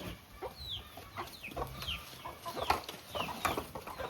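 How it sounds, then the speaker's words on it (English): Chickens clucking around a grandmother feeding them in a rural Ugandan village yard in Tororo, a steady scatter of short clucks and squawks, some close and some farther off, over faint outdoor background noise. "Look, grandma is feeding chicken."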